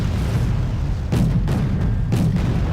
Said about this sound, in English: It is an annoying amount of artillery